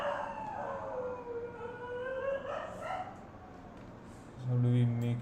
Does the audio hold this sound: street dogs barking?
yes